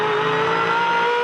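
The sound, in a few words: Supercar engine revving with throttle modulation, race car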